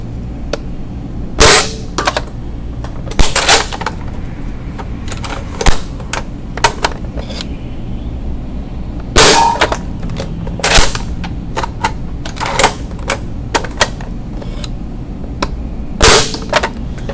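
A Nerf Recon blaster fitted with an OMW Stage 1 and 2 performance kit fires stock streamlined darts in a string of sharp, loud snapping shots, spaced irregularly and sometimes paired, with a soft mechanical clatter of priming between them.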